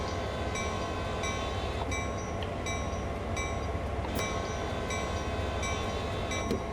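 Train simulator locomotive beginning to roll, a steady dense rumble with a repeating mechanical clank and short high squeals recurring about every second, continuous and moderately loud with no talking.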